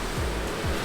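Waves at a beach, heard as a loud steady wash of surf noise with low rumbling swells, close and continuous for under a second.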